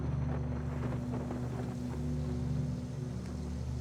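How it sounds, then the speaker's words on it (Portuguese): Wind and rough ocean water on the stormy sea between Elephant Island and South Georgia in Antarctic waters, with a steady low engine-like rumble and broadband wind roar continuing throughout, no talk. "O oceano."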